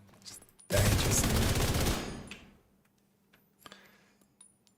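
Rapid gunfire from a weapon in The Division during PvE farming, a single dense burst of shots lasting about a second, loud and close, then trailing off into quieter clicks.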